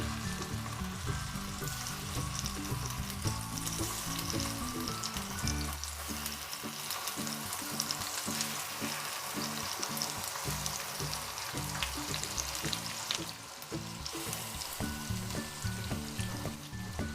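Chopped tomatoes fry in hot oil in a pan for a tomato egg omelette, giving a loud, steady sizzle and crackle that runs throughout with no one talking.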